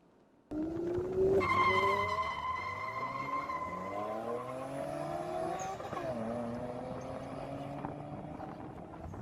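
A car driven at high speed gives a loud, whining engine note whose pitch climbs and then sweeps downward as it passes, with a brief tire squeal and a second rising sweep near the end.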